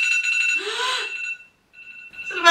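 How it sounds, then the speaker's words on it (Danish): An alarm going off in a home during a timed painting session, a loud repeating electronic beeping tone that stops briefly near the middle and then starts again. "Så det var ingen af os, der slukker alarmen."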